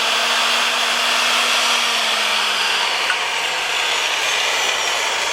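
A foot-pedal pipe threading machine runs with a steady, loud broadband whir and grind that stays even throughout, with a faint low hum slowly dropping in pitch beneath it.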